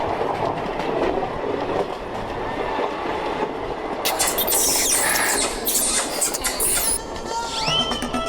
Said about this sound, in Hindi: अरे ट्रेन स्लो हो रही है यार